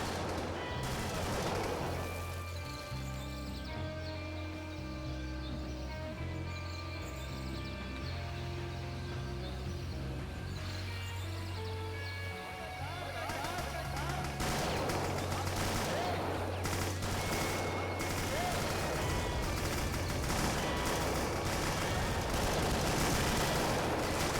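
Rapid bursts of gunfire and explosive blasts from the VietDoom Total Doom conversion game, dense and loud over a sustained low musical drone, with crackling volleys intensifying in the second half.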